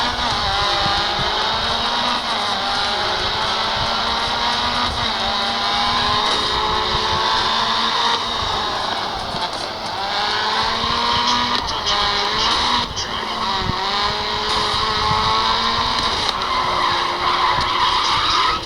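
Race car engines whine and tires skid and squeal in the racing video game Grid, played on a Dimensity 8100 phone; loud, continuous revving with rising and falling pitch sweeps throughout.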